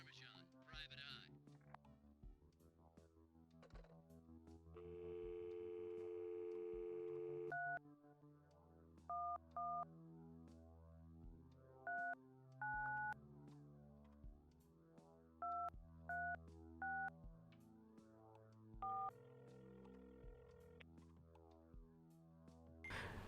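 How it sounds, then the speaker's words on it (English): Telephone keypad tones dialed in the Please Don't Touch Anything puzzle game, several sustained two-tone beeps followed by short paired blips in irregular bursts, heard clearly over a low musical background. "Now that we've dialed a bunch of the secret numbers"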